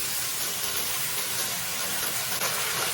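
Crispy batter is poured around the edge of a hot pan lined with egg dumplings, giving a steady, dense sizzle that holds constant and close throughout.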